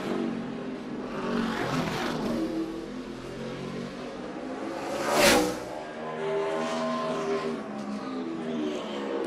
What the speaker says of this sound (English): He's spinning the tires halfway down the straightaway right now